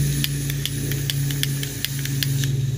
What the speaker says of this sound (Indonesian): nyembur gasnya